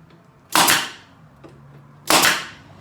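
A staple gun fires twice into wood while building kitchen cabinets for a vintage Serro Scotty camper. Each shot is a loud, sharp snap with a short ringing decay, and the two shots are about a second and a half apart.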